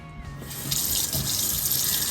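Tap water runs steadily into a sink while greens are washed, a continuous close splashing rush that swells slightly after a brief start, with no voices.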